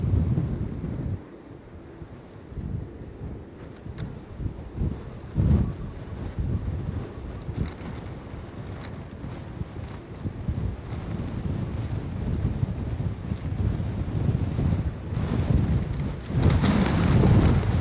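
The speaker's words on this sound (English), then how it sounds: "There's the wind" Strong gusty wind at Edinburgh airport roars and buffets the microphone throughout, surging and easing in heavy low rumbles, building louder toward the end.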